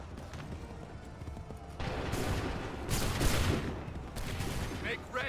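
A musket volley in Assassin's Creed 3, several loud crackling bursts of massed fire over a busy battlefield din with shouted commands mixed in.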